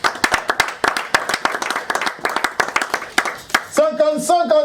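Guests at a religious wedding ceremony clap in a quick, rhythmic burst, loud and close, before a voice rises over the claps near the end.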